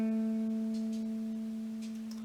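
A single plucked acoustic guitar note, fretted by the ring finger at the 7th fret of the D string, rings alone and steady before slowly fading, its clear harmonics sustaining throughout.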